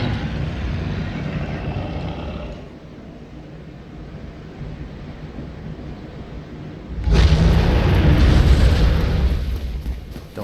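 A dragon in Dark Souls lands with a heavy rumble, then after a quieter lull unleashes a loud roaring blast of fire breath, deep and close.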